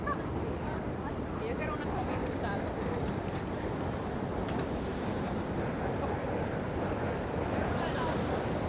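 Steady wash of waves at high tide on Pebble Beach in Brooklyn, a broad continuous roar close by with distant crowd murmur and faint city noise mixed in.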